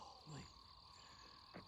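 A toad croaking at night, faint and distant, a couple of short croaks over a steady insect hum.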